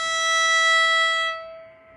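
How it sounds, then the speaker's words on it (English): Open E string bowed on a violin, a single sustained bright tone with rich overtones that holds steadily and then fades away, heard alone. "hearing that open E string sound made you go, ooh!"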